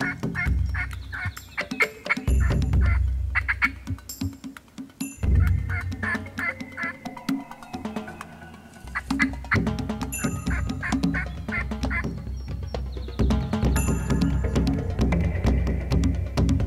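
A wild tom turkey following a hen outdoors gobbles in repeated rattling bursts, mixed with hen-like clucks and yelps. The calls come in uneven clusters across a busy, fairly close stretch.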